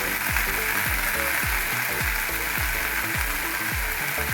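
Red amaranth greens frying in a pan: a loud, dense, continuous sizzle fills the whole stretch, with faint regular low thuds underneath and no clear speech.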